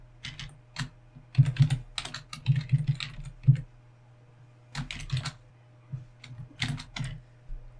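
Someone types code on a computer keyboard in short clustered bursts of clicky keystrokes with brief pauses between, close and fairly quiet, no talking.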